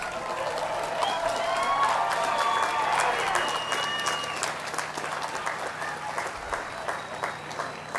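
Audience applause at a 2007 College of Environmental Design commencement ceremony for graduating master's degree recipients, a broad sustained clapping from a large crowd that stays steady and full for several seconds before slightly thinning.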